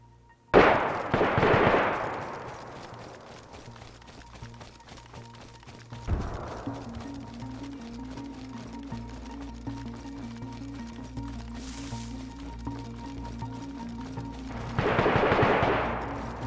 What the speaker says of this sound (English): There was a load of shots in the nearby town of Rezek.